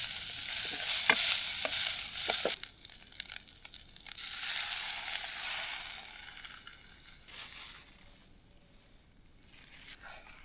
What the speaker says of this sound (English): Let me throw in some rice